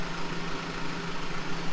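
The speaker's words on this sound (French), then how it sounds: "Il n'y a pas de bruit, bon à part le tracteur qui tourne" Steady low rumble of a tractor engine idling inside a cow barn, a constant droning hum with no change in pace, moderately loud and continuous, with no voices.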